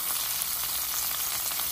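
Stuffed okra (bendakaya) fries in a pan with a steady, close, bright sizzle that runs continuously without pause and with no talking.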